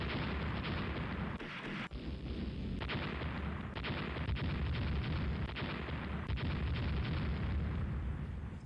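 Naval gunfire from warships in the Rule The Waves strategy game, a dense roaring barrage of rumbling booms and blasts that runs continuously and loud with no pauses.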